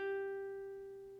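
Open G string on a ukulele rings out as a single sustained, clear tone that slowly fades, quiet and alone without any speech.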